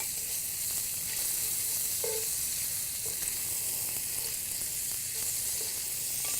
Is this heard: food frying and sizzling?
yes